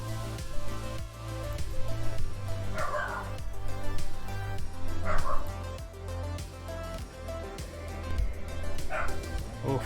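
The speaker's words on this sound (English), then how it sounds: "Oh, my dogs are going crazy." Several dogs barking and yipping insistently indoors, close and continuous over a steady background hum, with a few whimpers mixed in.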